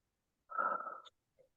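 A single long, breathy exhale lasts about half a second during a yoga stretch while threading the needle, close and fairly quiet, with a small soft breath sound trailing after it.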